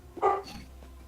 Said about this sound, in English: That's a noisy dog you got there, Colleen.